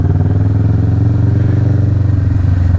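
Kawasaki Vulcan S motorcycle riding toward a mall car park in Pampanga, a loud, close, steady low engine drone with a regular pulsing throb held throughout, no talking.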